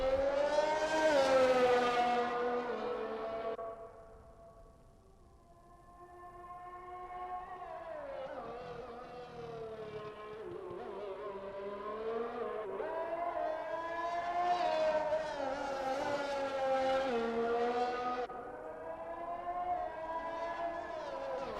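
A Williams Formula 1 car runs down the pit straight with DRS open into turn 1, its high engine whine loud and steady, rising and falling in pitch through gear changes with no talk over it.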